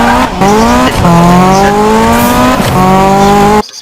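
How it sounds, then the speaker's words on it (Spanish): Ferrari F40 race car engine from a Need for Speed game, loud and close, with steady harmonic revving that climbs through gears in three pulls, brief dips at each shift, ending abruptly. "Ahora estamos aquí en un Ferrari F40 Racing."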